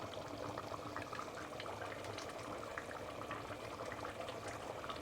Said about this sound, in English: Just going to drain out the brine first.